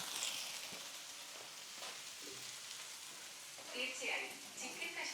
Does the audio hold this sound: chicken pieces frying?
yes